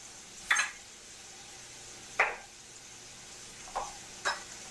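Four separate, short crisp cuts as a knife slices through butternut squash flesh on a board, unevenly spaced in a quiet room.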